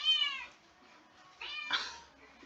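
Desperate kitten meowing twice, a high, strained cry, then a pause and a second, harsher meow, fairly close but soft, with no talking over it.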